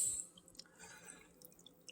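An orchid lowered back into its water culture container, soft faint drips and small splashes of water, gentle and close, with no voices.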